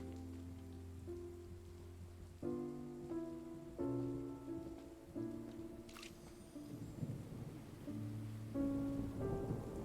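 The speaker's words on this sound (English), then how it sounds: "It's raining again?" Rain with rumbling thunder in the video game Genshin Impact, a steady wash of rainfall beneath a soft musical score, with one sharp crack of thunder midway.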